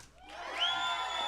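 A small, socially distanced studio audience screams and whoops together in a short burst, rising quickly to a shrill peak and holding there, close and fairly loud.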